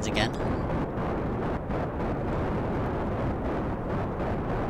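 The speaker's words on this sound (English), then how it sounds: "But smooth liftoff." A rocket lifts off in Kerbal Space Program, its engines giving a loud, steady roar that fills the whole stretch with dense low rumble and a brief bright crackle at ignition.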